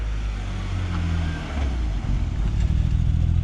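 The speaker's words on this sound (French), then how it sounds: "Le bruit des pneus roulés sur les graviers." A car's tyres rolling over gravel, a low crunching rumble under a steady engine hum, close by, with a slightly louder grinding patch toward the end.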